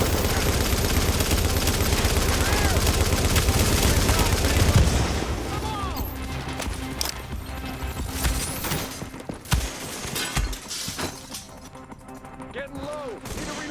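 Loud automatic gunfire in the video game The Division rattles almost without pause, with bursts and impacts under game voices calling out orders.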